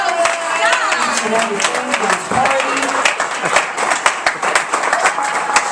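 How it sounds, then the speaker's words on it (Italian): Clapping and cheering from a crowd at a 60th birthday party fill the room, a steady round of applause for the host's mother, with a voice talking over it. "please another round of applause for my mother"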